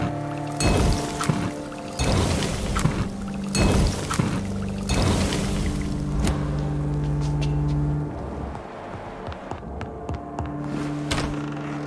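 Water pours onto a dying flower in the game Vampyr, a steady liquid stream running for several seconds over a low droning hum and soft music-like tones, with no voices.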